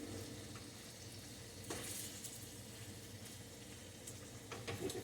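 Precooked potatoes warm in a hot pan for a country breakfast, giving a faint, steady sizzle with occasional soft scrapes and stirring clicks.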